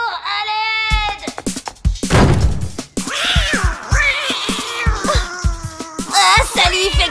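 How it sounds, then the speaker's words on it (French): An animated cartoon cat from a French children's series lets out loud, close meows and drawn-out yowls, opening with a long wavering cry followed by a string of shorter squalling calls. "Alex, mais qu'est-ce que c'est que ce chat?"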